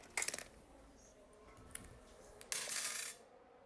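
A coin flipped for a racing game series choice lands with a few sharp metallic clinks and a brief rattle, followed by a longer scraping spin, close and fairly loud against a quiet room.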